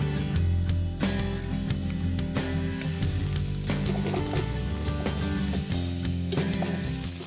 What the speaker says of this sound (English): Once the ghee is nice and hot, I'm going to add the onions.